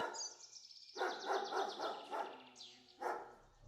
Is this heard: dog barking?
yes